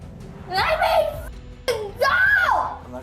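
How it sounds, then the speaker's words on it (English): A child screams in two loud, rising-and-falling bursts while being handcuffed, with a sharp knock and a short gap between the cries. "the child continued to scream and struggle against the handcuffs"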